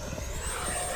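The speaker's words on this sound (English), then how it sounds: "Definitely a cool little sport jet." H-King Viper64 EDF RC sport jet in flight, a continuous loud ducted-fan whine with a slowly rising pitch and a steady roar beneath it.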